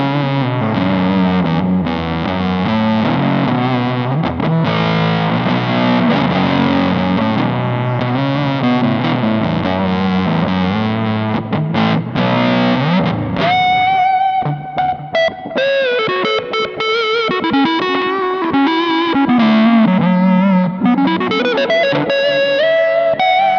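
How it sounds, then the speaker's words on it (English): An electric guitar on its neck pickup played through a fuzz pedal, thick saturated riffs and sustained notes ringing continuously and loud, with bends climbing higher near the end and no voices. "It sounds like a fuzz pedal."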